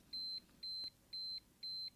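A pink visual desk timer with a star-shaped knob rings out four evenly spaced, high electronic beeps, each held about a quarter second, steady and clear over a quiet room.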